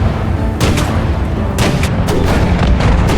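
The Sturmtiger's heavy gun in War Thunder fires in a series of loud, sharp booms, several blasts spaced irregularly over a constant rumbling battlefield background.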